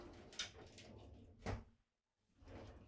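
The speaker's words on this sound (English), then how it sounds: "open and close the glass doors" Glass shower doors in a 2026 Newmar Super Star RV slide open and shut, giving a few soft, faint rolling and bumping sounds in a quiet interior with no one talking.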